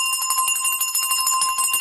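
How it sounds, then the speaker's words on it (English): A hand bell shaken during an Ekeko doll prayer, ringing steadily with a bright, shimmering metallic tone and rapid repeated strikes, close and loud throughout. "some people also pray with a bell, and they pass it by the Ekekos"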